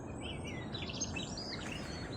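Birds sing and chirp at the Knucker Hole wildlife haven in Lyminster, a steady background of faint, overlapping calls over low outdoor rumble.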